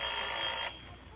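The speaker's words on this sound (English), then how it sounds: "I'd ring him up on my phone" An old telephone bell rings in a steady bright trill that stops partway, leaving faint background hiss, with no one talking.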